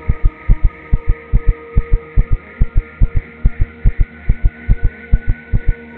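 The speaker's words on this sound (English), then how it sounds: "Heartbeat." A steady heartbeat from the survival game Empyrion, with paired thumps repeating evenly and loud over a faint low hum, with no talking.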